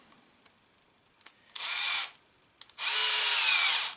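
Two bursts of a power drill driving a screw into a mounting post while fitting a Pro Line Pro Fusion SC 4x4 central section, the second burst longer, with light clicks and handling noises between them and no talk.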